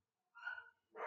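Dogs barking in two short bursts, the second louder and rougher, separated by a brief pause.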